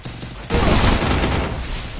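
Dense, continuous gunfire from a shooting video game, a loud sustained burst of rapid shots that starts abruptly and runs to the end.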